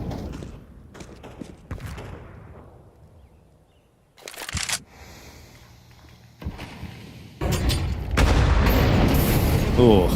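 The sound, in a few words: grenade explosion in Counter-Strike video game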